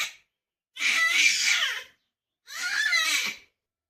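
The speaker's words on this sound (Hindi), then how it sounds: "अब ये पलटने के लिए रोएगी।" A baby girl trying to roll over cries in two strained, high bursts separated by short silences, close and fairly loud.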